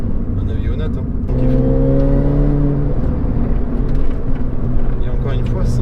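A 2006 Mini R53 John Cooper Works GP driving at 80 km/h and 3600 rpm, with a loud, steady engine drone and whine heard from inside the car while someone talks over it.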